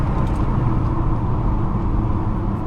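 New car accelerating hard with aggressive gear shifts, a loud steady engine and road rumble heard from inside the cabin, continuous with no clear break.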